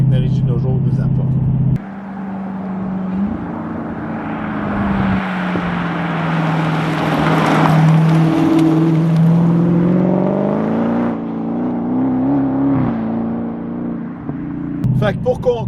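A Dodge Hellcat's engine rumbles and revs steadily on a road test, swelling and easing over several seconds, with a voice talking over it throughout.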